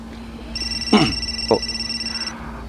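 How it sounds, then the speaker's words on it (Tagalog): A cellphone rings with a steady electronic tone lasting under two seconds, while a person briefly speaks and reacts over it. "Oh, kadiyot. Ako cellphone."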